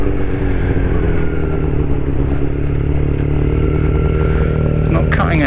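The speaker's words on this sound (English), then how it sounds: "Look at those lovely bikes." Motorcycles out riding: a steady, close engine drone holds throughout with a low rumble, and a brief metallic clatter comes near the end.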